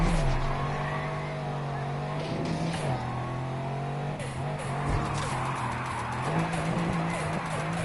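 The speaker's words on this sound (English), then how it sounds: "Like, that's not a bad looking drift," Car sliding through a drift in a racing video game, a steady engine drone holding a low pitch with scraping tire squeal layered over it, continuous and fairly loud, with a voice talking over parts of it.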